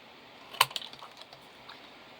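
Scissors snip through leftover paper scraps for cardmaking, one crisp cut followed by a few faint, quick snips, close and quiet with no talking.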